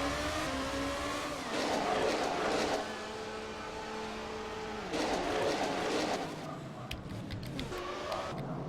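A race car engine revs and shifts as the car goes into the pits during a CGP2 race in Abu Dhabi, with loud swells of acceleration and gear changes and no talk.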